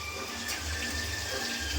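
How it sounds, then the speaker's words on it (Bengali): Running water splashing steadily while meat is rinsed in a household kitchen, a continuous close wash with no talk over it. "মাংস একটা ধোয়া হয়ে গেছে আর একটা ধুচ্ছে এই যে"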